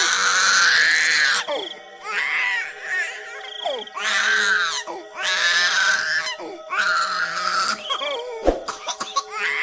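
An infant wails from hunger in a Hindi horror story, crying in four or five loud, close bursts separated by short gasping pauses.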